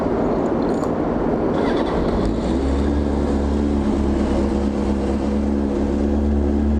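A motorcycle engine warms up while idling, a loud steady droning hum that settles into an even low throb after a rougher start, close by with no voices over it.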